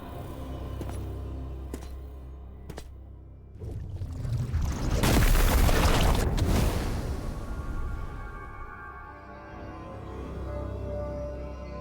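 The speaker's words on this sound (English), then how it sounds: "Just exploded." An explosion in Metroid Prime 4 Beyond rises into a broad, loud, noisy burst that peaks and then trails off, set among softer game sounds and a few sharp clicks.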